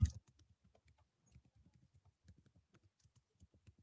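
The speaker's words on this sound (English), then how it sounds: "So can you try typing that in again" Keys clatter on a computer keyboard in a steady stream of light, quick clicks after one sharper knock at the start, close by and with no talking.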